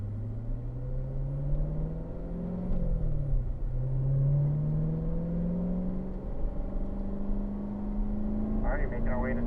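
A Corvette accelerates onto a race track, its engine note climbing steadily, dropping briefly at an upshift and rising again toward third gear, loud and close throughout.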